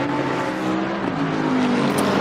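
Racing engine of a Bentley GT car, number 728, in an endurance sim race, droning steadily and loud throughout with a sustained hum and faint shifts in pitch, no talk.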